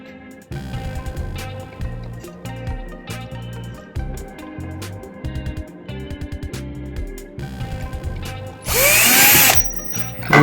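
A Bosch GSB 120LI cordless drill drives a long screw into wood in a run of short bursts and stops, each whine rising and falling, ending in one sustained high-speed spin near the close.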